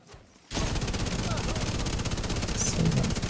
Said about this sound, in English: I'm gonna shoot this way.